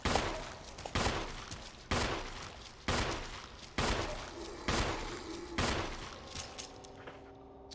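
Pistol fire in the horror video game Evil Lurking: eight sharp, evenly spaced shots roughly one second apart, each loud crack trailing off into a brief echoing decay.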